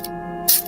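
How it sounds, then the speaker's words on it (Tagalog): Perfume is spritzed onto a hand and neck in a single short, close burst of hissing mist after a faint earlier puff, with a quiet hum underneath. "tatry kong mag-spray dito sa kamay at liig ko"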